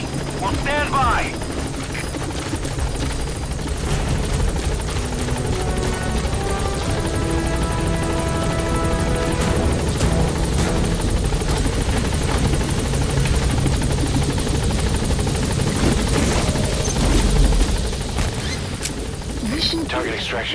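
A P-Quad helicopter in Metal Gear Solid V arrives at a landing zone, its heavy rotor thudding loud and continuous over engine roar, with faint gunfire bursts mixed in.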